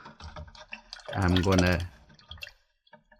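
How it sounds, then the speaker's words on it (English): A paintbrush goes into water for watercolor cleaning, giving a short burst of swishing and bubbling liquid between brief spoken words and small clicks. "Alright, now I'm going to put it into the water"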